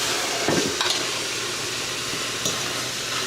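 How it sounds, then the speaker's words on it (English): Spinach steaming and wilting down in a hot pan, a steady broadband hiss and sizzle with a few faint clanks, close and even, and no talk. "Right now, we are steaming off my spinach right here. I'm just wilting it down."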